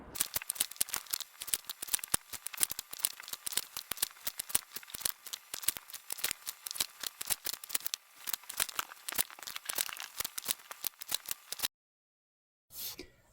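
Rapid, continuous scissor snips and rustling as fabric pieces are cut for a beginner fat-quarter quilt, close and busy with no talking, stopping abruptly near the end before a brief clatter.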